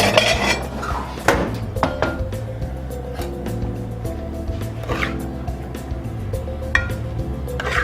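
Carbonara pasta being plated, with dishes and cutlery clattering close by in a steady run of clinks and scrapes, sharp knocks standing out over a low background hum.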